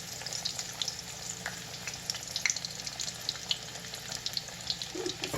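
Chicken frying in hot grease, a steady soft sizzle with light crackling and occasional pops, moderately close and even throughout, with no talking.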